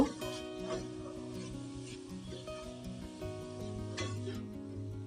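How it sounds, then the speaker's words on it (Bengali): Grated coconut, frozen and slightly clumped, fries in a pan for coconut laddu with a soft, continuous sizzle and occasional stirring clinks beneath steady tonal background music. "নারকেলটা আমি দুই তিন মিনিট একটু ভেজে নিব"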